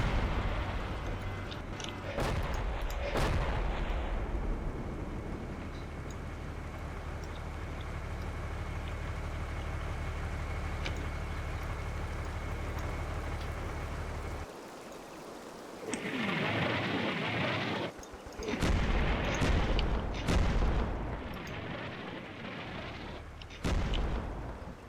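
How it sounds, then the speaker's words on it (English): Preparatory artillery barrage in the Combat Mission Black Sea war game: a sustained low rumble of continuous shelling with sharp blasts near the start, a brief lull, then renewed heavy bursts of explosions and crackling impacts. "So it looks like the preparatory fires are just about finished."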